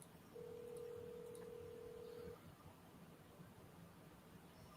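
A faint electronic phone ringback tone held steady for about two seconds over quiet room hiss, sounding distant and thin, as if heard from a handset away from the microphone.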